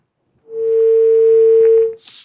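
A steady telephone tone sounds loud and alone for about a second and a half after a call-in caller on an Islamic lecture broadcast is disconnected, then cuts off abruptly, followed by a brief hiss.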